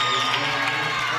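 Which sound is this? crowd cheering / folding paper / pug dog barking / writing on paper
crowd cheering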